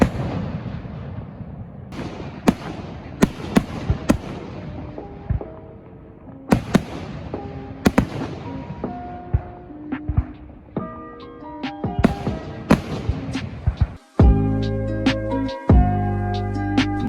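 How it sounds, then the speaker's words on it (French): Fireworks on the 14 July national holiday: a long string of sharp bangs and booming bursts at irregular intervals, some distant and some louder, with crackling trails and a heavier cluster of blasts toward the end. "Et puis tout à l'heure, feu d'artifice."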